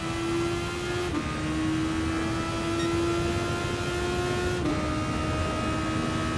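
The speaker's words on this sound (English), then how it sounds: "I need to remember to rev this car out a little bit more than I do as well" A race car engine in Gran Turismo Sport drones loud and steady at high revs, dipping briefly at two quick upshifts, with no voices.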